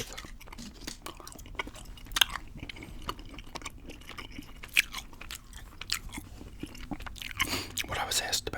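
Gum being chewed close to the mic, with soft wet clicks and smacks repeating irregularly through the clip under a quiet background, and occasional soft mouth sounds.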